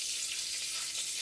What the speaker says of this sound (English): Take this pork chop coming out off the grease right now.